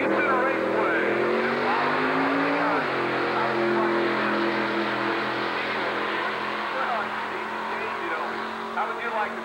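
Chevrolet Vega Pro Eliminator drag racing car at a 1990 drag strip, its engine roaring loud and steady with a pitch shift partway through, a speaking voice running over the noise throughout.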